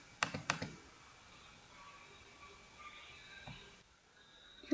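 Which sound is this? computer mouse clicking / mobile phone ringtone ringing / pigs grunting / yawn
computer mouse clicking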